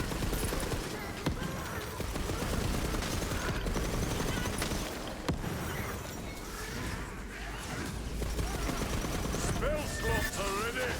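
Rapid gunfire from the Queen's Cry gun in a fast-paced video game run, dense continuous bursts of shots layered with clattering effects and busy game sound throughout.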